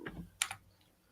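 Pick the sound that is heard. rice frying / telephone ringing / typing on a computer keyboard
typing on a computer keyboard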